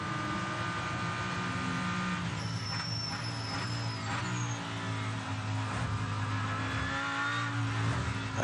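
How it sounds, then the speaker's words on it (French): The Iron Dames team's Lamborghini race car at the 6 Hours of Spa-Francorchamps 2024 roars steadily at high revs, loud and continuous, with a pitch change as it passes and a faint commentator's voice under the engine. "La voici, la Lamborghini de l'équipe Iron Dames."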